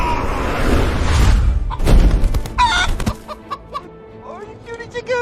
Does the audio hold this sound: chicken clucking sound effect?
yes